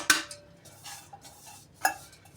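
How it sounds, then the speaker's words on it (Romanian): A utensil stirs ground walnuts into an egg foam batter for a fluffy walnut and blueberry jam cake, with a few sharp clinks against the bowl and soft scraping strokes between them. "Deci peste spumă punem nuca. Așa, amestecăm."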